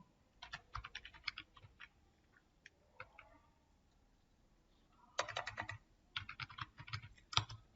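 Computer keyboard typing on a Windows 10 PC comes in irregular bursts of quick, close key clicks, with brief pauses between runs and a denser flurry near the end.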